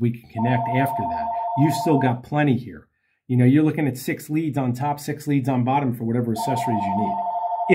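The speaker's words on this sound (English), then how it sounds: "Please pardon the phone." A telephone rings in two bursts of electronic trilling, one near the start and one at the end, heard under someone talking steadily.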